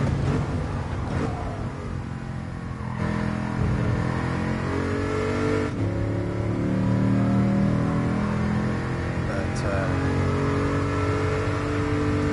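A 5.7 i-Force V8 car engine in GT Sport, revving loud and steady, climbing in pitch, with a shift break partway through.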